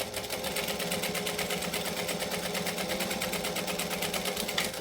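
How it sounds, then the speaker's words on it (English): A sewing machine top stitches over folded vinyl at a long 4 stitch length, running as a steady, fast, continuous mechanical whir with an even stitching rhythm throughout. "I'm going to fold this down and top stitch it"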